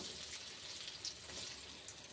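Fish fries in a pan with a soft, even sizzle that hisses continuously and faintly throughout, with no talking.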